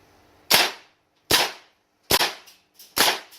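A VFC SR-25 airsoft replica fires four loud semi-automatic shots, each a sharp crack with a brief decay, spaced under a second apart, with a small extra click after the third shot.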